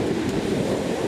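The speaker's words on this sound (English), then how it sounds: "It's quite a steep beach and tide's coming in." Sea waves on a steep beach at Silecroft, Cumbria, with the tide coming in: a brief, steady roar of surf close by, mixed with wind buffeting the microphone and no voices.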